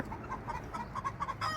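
Backyard hens cluck and squabble in a rapid, uneven run of short calls, fairly close and steady over a low background hum, with no voices present.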